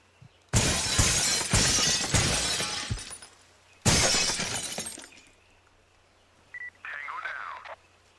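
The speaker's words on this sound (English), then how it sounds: "I was trying to shoot through the glass." Video game gunfire shatters a glass window during a jungle raid: two loud bursts of breaking, crashing glass, each trailing into tinkling debris, followed by faint electronic beeps.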